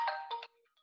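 A mobile phone ringtone chimes loudly for about half a second in a few bright tonal bursts, then cuts off and leaves only faint tonal traces.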